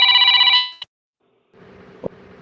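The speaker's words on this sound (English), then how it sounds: "Did that phone call come over the air?" A household telephone rings loudly for about half a second in a bright electronic trill, then falls silent; after a pause a low murmur of background sound returns with a short knock.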